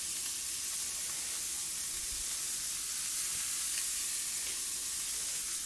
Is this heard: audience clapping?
no